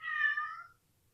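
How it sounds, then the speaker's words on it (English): A house cat gives a single short meow, faint and fairly close, in an otherwise quiet room. "My cat."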